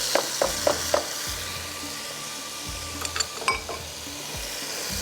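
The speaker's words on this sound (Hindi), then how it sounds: "जैसे ही आपको लगे कि धनिया थोड़ा सा फ्राई हो रहा है" Coriander sizzling steadily in a hot pan for a tarka, with a few sharp clicks and scrapes of a spoon stirring against the metal over the continuous frying hiss.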